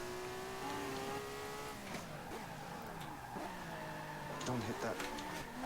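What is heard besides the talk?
race car rear tires skidding and squealing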